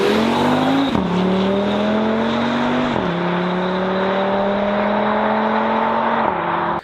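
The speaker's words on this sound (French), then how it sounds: "Le 5 cylindres, tu l'entends entre beaucoup." An Audi five-cylinder 2.0 TDI engine runs loud and close with a steady droning hum, its pitch climbing gradually and then dropping sharply three times, like gear changes under acceleration. No one speaks.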